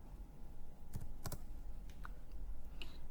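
A short flurry of keystrokes on a computer keyboard as a name is typed, a few quick clustered clicks with small gaps, close and clear over quiet room tone.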